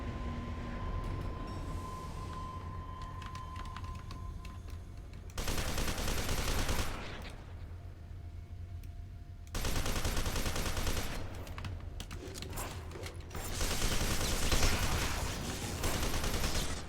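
Gunfire in F.E.A.R. 2: loud bursts of rapid shots come in separate stretches between quieter ambient passages, with no one talking.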